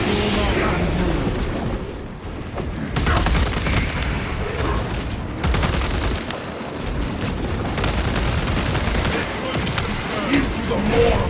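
Dense, sustained gunfire and booming explosions from a Warhammer 40,000: Space Marine 2 battle, loud and continuous with bursts and blasts overlapping throughout, with shouted voices buried in the din.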